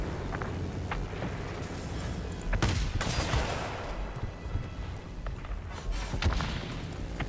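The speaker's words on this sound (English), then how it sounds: "I love shooting under the bomber." Aircraft gunfire in World of Warplanes while shooting at a bomber from below, dense rapid bursts of cannon and machine-gun fire with heavy thumping impacts, loud and continuous under engine noise.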